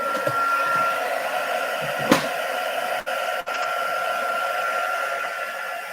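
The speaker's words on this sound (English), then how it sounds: "then you could give them a blast with the heat gun" A heat gun blowing a steady, close airflow roar over die-cut paper pieces to dry them, with a brief knock partway through and two short dips as it shifts.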